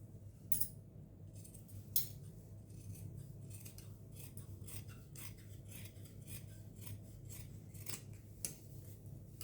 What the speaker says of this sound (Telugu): ఇప్పుడు కట్ చేస్తున్నాను.